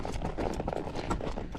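A barn-sour horse being led at a slow walk, hooves clip-clopping in a steady close rhythm with no talk over them.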